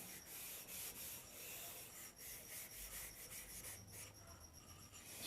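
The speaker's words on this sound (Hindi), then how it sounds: "इस लाइन को रेजर से मिटा दीजिएगा" A pencil eraser rubs out a construction line on a technical drawing sheet, giving a steady, close scratchy rubbing that runs continuously with small bursts of faster strokes.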